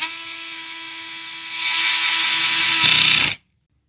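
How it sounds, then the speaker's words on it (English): Small electric screwdriver fitted with a T8 Torx bit driving a screw back into a Derya DY9 shotgun backstrap: a steady high motor whine that rises in pitch and strain partway through, then cuts off abruptly, with no voices. "Take my screwdriver with the T8 Torx bit and screw it back in."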